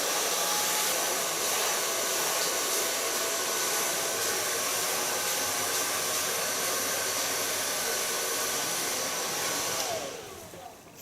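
A hair dryer blows hair dry in a steady, loud whooshing roar that runs almost unbroken, then cuts off and fades near the end.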